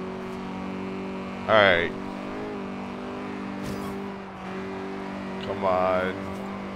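A 1968 Abarth 595 engine in Forza Horizon 2 drones and climbs in pitch as it accelerates, a steady buzzing tone that rises through the gears while someone talks over it.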